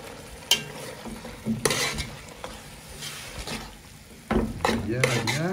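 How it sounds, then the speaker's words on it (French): Food is stirred in a cooking pot over a fire in Madagascar, with scraping and clinking of a utensil against the pot in irregular strokes, a faint sizzle underneath, and a voice speaking briefly near the end. "Et puis tu mélanges."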